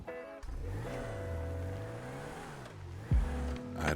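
A car engine runs in Grand Theft Auto V on a vehicle spawned with a trainer mod, a steady loud idle that swells and dips in pitch before a sharp thump and a rising rev, with no speech.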